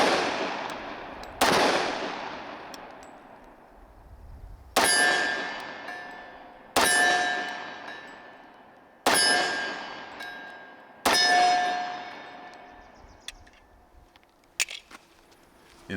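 Five loud, sharp 10mm pistol shots from a SIG Sauer P220 Legion, spaced a few seconds apart, each with a ringing metallic clang and a long decaying echo, then a few fainter clicks at the end.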